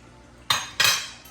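A greased 9x13 metal lasagna pan clatters twice on a kitchen counter, two close, bright metallic knocks about a third of a second apart with a faint tap after, no talking.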